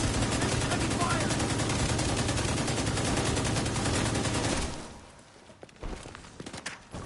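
Heavy, sustained automatic gunfire from The Division 2 on PS5, a dense continuous volley for several seconds that cuts off into scattered footsteps and thuds.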